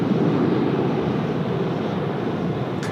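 Steady, broad roar of a Philippine Airlines jet arriving at Sydney Airport and taxiing from a distance, a constant rumbling engine wash with no talk.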